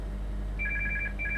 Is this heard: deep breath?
no